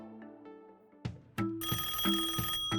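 A telephone rings for a voter taking a polling call, with a few faint tones at first and then loud, repeated electronic bell-like rings close by.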